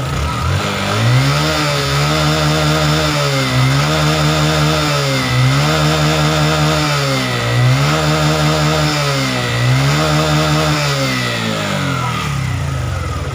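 A Honda Supra 125 FI motorcycle with a faulty charging system revs repeatedly, its close, loud engine climbing and falling in a steady cycle about every two seconds, alone without voices.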